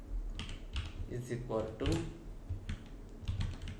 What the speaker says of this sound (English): Just I am going to be typing any name like Kalyan